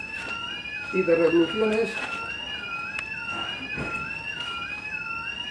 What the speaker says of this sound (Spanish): Creo que están cambiando alguna alarma o algo